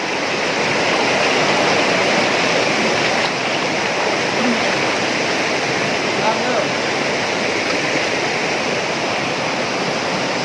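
Large spring water gushing out of the ground in Laos, forming a steady, loud, broadband roar of rushing water like a waterfall that holds constant and close throughout.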